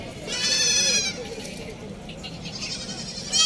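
White Tapri goat bleating, a clear wavering call near the start and another rising at the end, with a voice talking faintly underneath at a livestock market.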